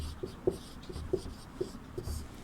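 Chalk tapping and scraping on a classroom board in short strokes, about five light ticks spaced across a couple of seconds, fairly close and moderately quiet with faint room noise.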